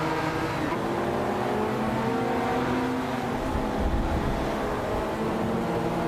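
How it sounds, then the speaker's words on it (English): A 1987 Porsche 959 engine drones steadily in a racing video game, a continuous loud roar with layered engine tones and no pauses. "Ashen is leading the race in a 1987 Porsche 959."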